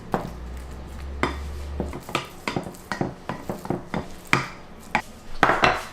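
Cooked minced meat for a cottage pie gets pressed and spread in a Pyrex baking dish, with a run of sharp utensil taps and scrapes against glass, close and fairly loud, unevenly paced.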